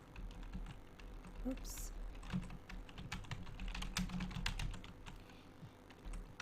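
Keys clatter on a computer keyboard while a spreadsheet column header is entered. The tapping runs in quick irregular bursts, close and moderately quiet, with a brief spoken exclamation partway through.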